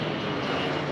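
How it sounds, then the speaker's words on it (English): Aircraft carrying water to fight a forest fire in Patagonia drone overhead, a steady broadband engine roar, fairly loud and unbroken for a brief moment. "there's all these planes flying over, carrying water, trying to put out the fire"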